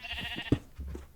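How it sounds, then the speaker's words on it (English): Minecraft sheep bleating close by in the video game: one short, sharp bleat in the middle of a brief, quiet stretch, with faint background game sound and no talk. "I know it's annoying to have the sheep right behind me"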